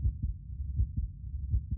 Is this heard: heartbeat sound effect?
yes